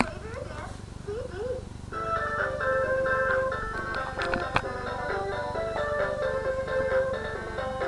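Jingly synthesized dance music, like an ice-cream-truck tune, plays from a CD through a Toshiba DVR620KU VCR/DVD combo, bright melodic notes over a steady beat, moderately loud, with a cat-like meow over it early on.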